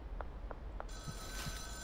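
A telephone in the game Schedule 1 rings in short repeated electronic chirps over a low hum, with a brighter tone sweeping in partway through.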